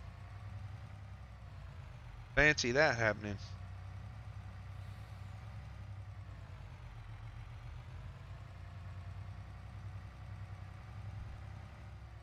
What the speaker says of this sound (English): There's a tractor driving down the road